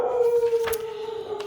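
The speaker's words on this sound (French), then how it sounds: "Bon là c'est Marley qui aboie." A dog named Marley gives a drawn-out, howling bark that holds steady at moderate distance and fades slightly toward the end, with no talking.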